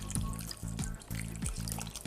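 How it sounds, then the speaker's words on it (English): Water is poured into a pan of Sri Lankan curry spiced with cinnamon, salt and chili flakes, a soft continuous trickle and splash heard close and fairly quiet over a steady low hum. "So now I'm going to add some water."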